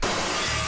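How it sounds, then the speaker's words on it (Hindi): A glass window pane shatters in one sudden, loud burst of breaking glass, with a crashing smash held through the short moment and no voices over it. "फिर से मेरा कांच तोड़ दिया"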